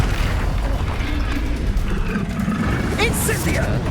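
Incendio fire spell cast in the game Hogwarts Legacy, heard as a heavy booming, roaring burst of flame under constant loud combat noise, with a voice calling out near the end.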